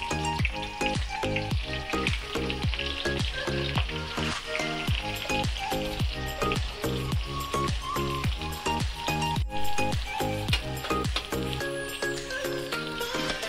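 Chopped onions fry in hot oil with whole cinnamon, cardamom and cloves for chicken biryani, a constant loud sizzle broken by regular scraping strokes of a spoon stirring the pan.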